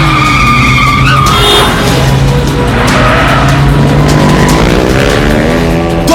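Motorbike chase in an army action movie, two bikes skidding and screeching with tyre squeal and revving engines over a loud, dense soundtrack, no talk.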